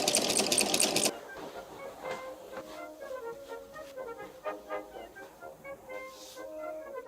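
A sewing machine stitches a dress for a Heilung Maria Franz cosplay, opening with a loud brief burst before settling into a close, rapid, rhythmic chatter that runs in short uneven spurts.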